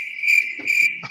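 Crickets chirping as a comic sound effect, a close, shrill, steady trill pulsing in two quick bursts, clear and alone against silence.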